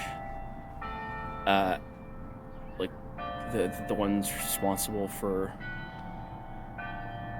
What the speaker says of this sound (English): there's just a bell there.